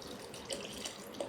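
Limoncello poured into a glass in a quiet kitchen, a soft, brief trickle of liquid with a couple of small splashing accents over low room noise.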